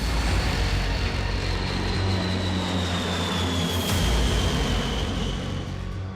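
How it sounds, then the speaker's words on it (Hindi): A B-52 bomber flies overhead with a heavy, continuous roar of jet engines, loud and steady for several seconds with a faint whining tone drifting through it. No voices are heard. "फिनलैंड तक उड़ान भरते हुए दोनों B-52 वापस ब्रिटेन पहुंचे।"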